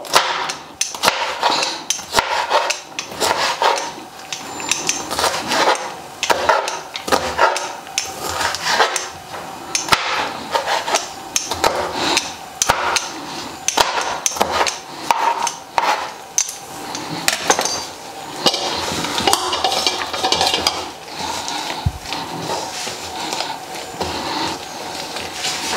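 A knife chops food into small pieces on a board in rapid, uneven strikes. The dense clatter of blade knocks runs close and loud for nearly half a minute, with no talking.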